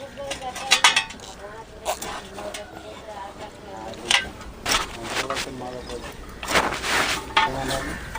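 A knife slices a pumpkin in two and pares away its skin on a home kitchen counter, giving scattered close scrapes, taps and clinks of blade and utensils over about eight seconds, with faint talk in the background.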